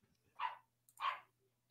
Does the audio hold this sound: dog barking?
yes